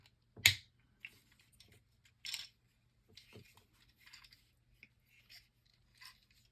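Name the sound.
Transformers Titans Return Blitzwing toy canopy and nose cone being flipped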